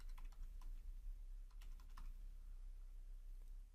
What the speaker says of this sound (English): I could start by just typing out the word universe as my regular expression